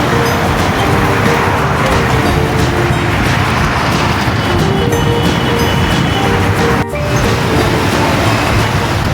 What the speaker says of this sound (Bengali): যানবাহন চলাচলের রাস্তা।